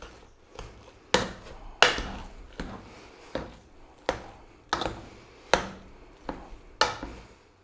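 Boiled potatoes and milk are being mashed for the potato topping of a British fisherman's pie, giving a run of about ten sharp, evenly spaced thuds and squelches close up, with no talking.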